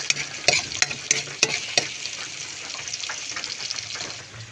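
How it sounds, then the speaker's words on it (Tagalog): Potatoes and carrots sauté in a pan with garlic and onion for giniling, a steady sizzle with several sharp scraping stirs near the start, close and alone. "Gigisa ko sa patatas at syempre carrots."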